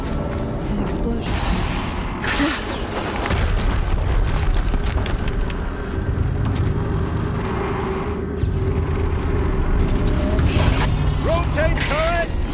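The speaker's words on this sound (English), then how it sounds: "An explosion." Explosions and heavy mechanical rumble fill a battle in the video game Horizon Zero Dawn, with deep booming bursts and a steady low roar throughout, brief whistling tones near the end and faint voices mixed in.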